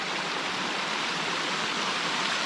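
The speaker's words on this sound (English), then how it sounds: "here's one of the coolest streams" A flowing mountain stream on the North Fork of the Skokomish River in Olympic National Park rushes in a steady, close, broadband wash of water, loud and unbroken, with no voices over it.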